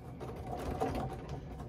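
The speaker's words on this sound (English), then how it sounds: "So as I'm stitching back over this, I am going to go back just a little bit to tack that" A sewing machine runs steadily through a thick, bulky layer of fabric, a close, continuous mechanical whir with faint rhythmic clatter that holds for the whole short stretch, with no talking.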